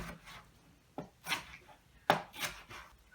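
A knife cuts through a large tomato on a board, giving a few separate crisp slicing strokes and board taps in a quiet kitchen, close and distinct.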